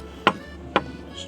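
A knife chops fresh dill on a cutting board: two sharp, separate thuds about half a second apart, close and clear, with no talking.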